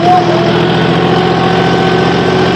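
A John Deere tractor engine runs loud and steady at a constant, even throb, close by with no change in pitch throughout.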